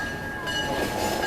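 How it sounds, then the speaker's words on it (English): A train rolls past with a steady broad rumble and a sustained high whine, growing slightly louder halfway through, with no talking. "Trains are still running."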